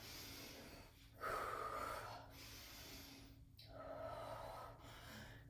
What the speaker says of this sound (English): Couple breaths.